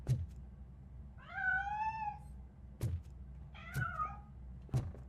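A cat meows twice in the RoboCop Rogue City video game, two drawn-out rising-falling cries separated by a pause, with several dull thumps and knocks around them.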